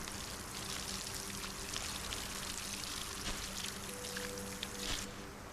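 Water pours onto crops in a farming video game, a soft, steady splashing trickle running almost unbroken at low volume.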